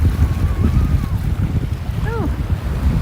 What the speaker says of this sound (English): the waves are picking up again